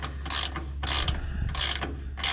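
Ratchet wrench tightening bolts on a JD 300 corn picker husking bed, with four crisp, rhythmic bursts of clicking ratchet strokes close up over a low background hum.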